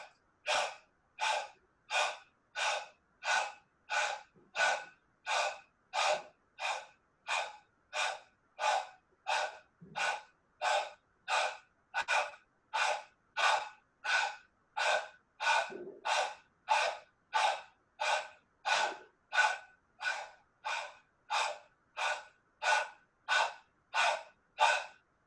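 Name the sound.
breathing exercise in hot yoga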